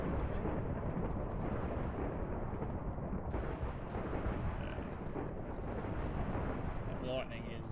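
Thunder from a lightning strike in Minecraft rolls as a dense, loud, continuous rumble filling the whole stretch, with no clear break, and faint game sounds near the end.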